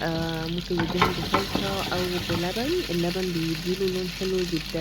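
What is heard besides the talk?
frying stuffed mumbar sausage in a pan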